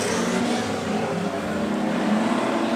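Race cars running laps at Augusta River Speedway, a loud continuous engine roar with rising and falling pitch as cars circle the track, carried without any talking.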